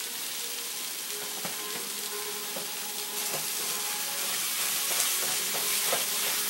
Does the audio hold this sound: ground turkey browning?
yes